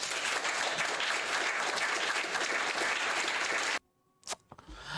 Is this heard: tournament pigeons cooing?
no